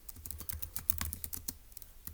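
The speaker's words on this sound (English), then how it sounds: "let's go ahead and type that up in our notes" Rapid, close keyboard typing on a computer, a steady run of light clicks and taps with no talk over it.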